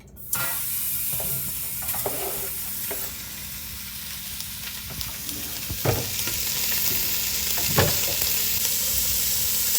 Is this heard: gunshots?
no